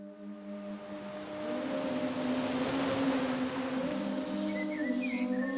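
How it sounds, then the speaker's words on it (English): Warm Costa Rican shoreline ambience with a steady wash of surf and the low drone of a passing boat engine, swelling after the first second and holding at moderate distance, with no one talking. "That's the sound of warm, delicious, glorious Costa Rica."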